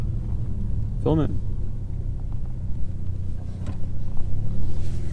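Steady low engine rumble inside an EcoBoost Mustang cruising at night, with a brief tonal whine near the start and a voice speaking over the drone.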